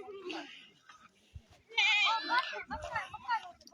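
Goats bleat in short wavering cries, close by and fairly loud, mixed with a few soft thumps and rustles from the animals nearby.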